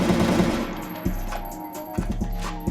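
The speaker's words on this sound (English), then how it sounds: "get the AK and empty the bullets" Rapid automatic fire from an AK rifle in a homemade OpenGL first-person shooter game, a dense steady rattle of shots with a few sharper cracks standing out.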